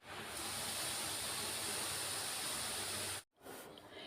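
Semolina sizzles as it roasts in ghee in a pan, giving a steady loud hiss that runs unbroken and then cuts out briefly near the end.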